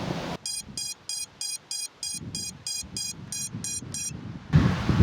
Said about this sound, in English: download an app to my iPhone to register the decibel level of the beeper